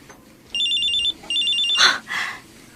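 A cellphone rings with an incoming call, sounding two bright, warbling electronic ringtone bursts in a quiet room, followed by a short rustle.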